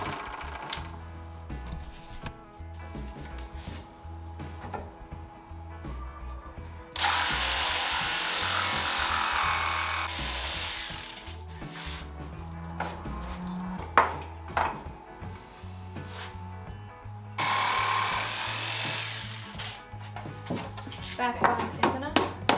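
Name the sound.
power saw blade cutting a kitchen cabinet board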